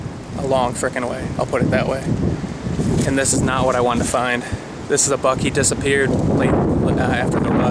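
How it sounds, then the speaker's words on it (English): Wind buffeting a microphone outdoors on a hillside, a low rumbling roar that surges and drops beneath someone talking close by. "Apologize for the wind."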